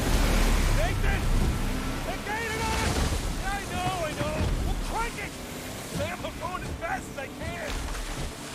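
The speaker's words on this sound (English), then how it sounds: "audio is loud, but that's the ocean noises" Loud ocean waves and wind roar in Uncharted: Legacy of Thieves, a constant surging wash under chirping bird calls and faint game effects.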